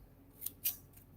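Scissors make two quick, close snips through designer series paper while a Halloween craft banner is trimmed at an angle, with quiet room tone around them.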